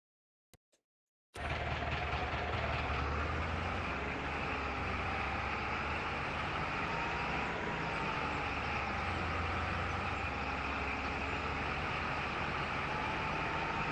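Vehicle in Farming Simulator 25 video game: after a couple of faint ticks, a loud, steady engine drone starts abruptly and runs on continuously, close and unchanging.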